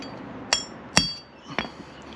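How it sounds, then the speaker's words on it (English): A hammer drives a part into place with three sharp, ringing metallic strikes about half a second apart, close and fairly loud, each leaving a short bright tingy ring. "When you hit it in, it'll go, it's a real tingy noise. Real solid sort of noise."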